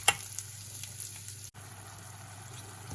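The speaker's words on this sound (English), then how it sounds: "So the wine is cooking away." White wine simmers and sizzles in a risotto pan, a soft, steady bubbling hiss close by with a faint clink near the start and a brief dropout midway.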